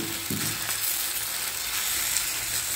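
Pancake batter sizzles steadily in a hot pan, a continuous loud frying hiss with a brief scrape near the start, no voices.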